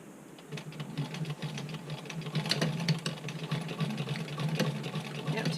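Hand crank sewing machine running through super stretchy fabric, a fast even clatter of needle strokes rising in pace and loudness, close up, with faint voices in the room.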